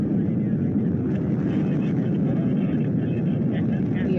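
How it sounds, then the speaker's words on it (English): Soyuz MS-26 rocket lifting off with its engines at maximum thrust, a steady, loud, broadband roar sustained without a break throughout. "The engines are at maximum thrust, booster ignition now at full throttle, and we have liftoff"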